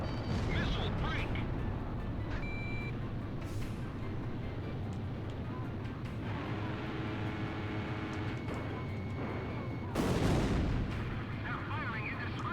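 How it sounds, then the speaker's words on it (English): Enemy gunfire and explosions rumble through an Ace Combat Zero air battle, a dense continuous roar of distant cannon fire and blasts with a sharp loud burst near the end. "They're firing indiscriminately"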